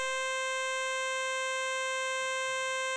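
A Deluge synth ring modulation track built from square-wave oscillators holds a C3 note as one steady, buzzy, harmonically rich electronic tone, sounding alone without pause.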